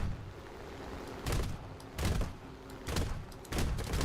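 Bursts of P-39 cannon and mixed machine-gun fire in War Thunder air combat, aimed at a Spitfire: four separate loud volleys, each about a third of a second, spaced roughly every 0.7 seconds over steady engine drone.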